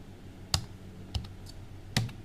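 A few sparse key taps on a computer keyboard as a user name is entered in accounting software, three distinct clicks spaced apart, close and fairly quiet with no talking.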